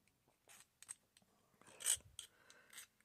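Hand filing deburrs a small metal part held in an engineer's clamp: a few short, faint rasping strokes with gaps between them, close by and quiet, one stroke a little louder, and no talk.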